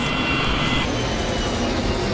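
An airliner bound for Singapore from Melbourne drones in flight, a steady, loud broadband engine roar with a thin high whine that drops away early on.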